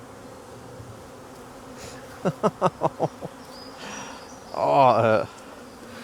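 Honeybees buzzing around a hive during night-time queen grafting: a rapid burst of short pulsing buzzes, then a louder sustained whining buzz close by, with a brief exclamation from a person.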